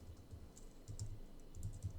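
Fingers type on a computer keyboard in quick bursts of soft, close key taps with short pauses between groups.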